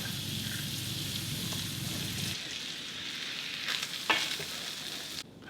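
Onion and tomato passata frying in a pan for pork ragu, a steady close sizzle and hiss that thins partway through, with a few stirring scrapes and clinks near the end.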